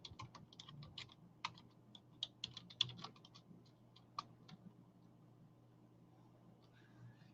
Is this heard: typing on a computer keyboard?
yes